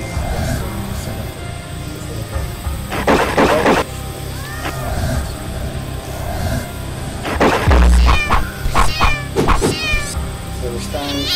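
Game audio from Ray's The Dead: a ghost cat meows and caterwauls in several short bursts over a steady music bed, with thwacks and hits during the fight and someone talking over it.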